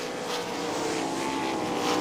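Dirt track sprint cars roaring past at Crystal Motor Speedway, a loud continuous engine roar that swells slightly as the pack goes by.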